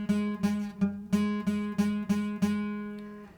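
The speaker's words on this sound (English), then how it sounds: "You don't want to be too far back or you're going to get a buzzing sound like this." A guitar string picked repeatedly with the fretting finger placed too far back from the fret, about eight quick plucks in a steady rhythm, each a bright sustained tone with slight buzz, close and fairly loud, no talk.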